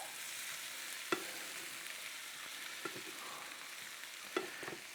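Zucchini, onions and eggs sizzle steadily in a frying pan, with a few sharp clicks and scrapes from a spatula stirring the mixture, no voices.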